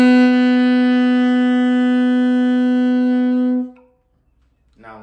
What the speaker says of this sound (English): we're going to play the note C sharp